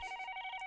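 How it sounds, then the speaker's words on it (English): An electronic telephone ring at two in the morning, with quick pulsing trills repeating in a steady rhythm, close and clear with no talking. "I finally realized the phone was ringing."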